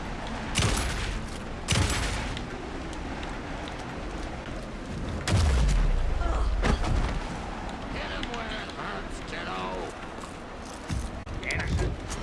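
Gunfire in Alan Wake 2 sounds as several sharp, loud shots spread across the scene, mixed with tense game effects and background voices.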